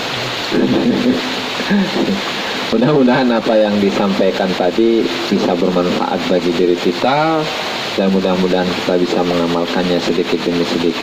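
Heavy rain with thunder on an evening during a religious study lesson, a steady broad wash of downpour under continuous close male speech.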